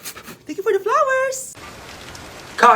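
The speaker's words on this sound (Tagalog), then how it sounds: "Lakas ng ulan, be." Heavy rain pours down in a steady, hissing wash. A vocal whine and brief voice sounds rise over it at the start and again at the end.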